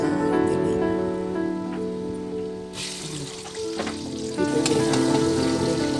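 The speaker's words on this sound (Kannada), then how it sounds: "ಈರುಳ್ಳಿನೂ ಹಾಕ್ಕೊಂಡ್ಬಿಟ್ಟು ಚೆನ್ನಾಗಿ ಫ್ರೈ ಮಾಡ್ಕೊಳ್ತಾ ಇದ್ದೀನಿ" Onions and garlic fry steadily in hot oil in a tempering of mustard seeds and cumin, giving a dense, continuous sizzle with occasional stirring scrapes. The sound swells louder partway through, with faint background sounds.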